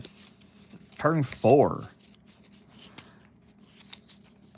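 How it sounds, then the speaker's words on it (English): Playing cards are shuffled during a card game, a soft, dry riffle and scrape at low level, with a brief spoken word near the start. "We shuffle our cards back up."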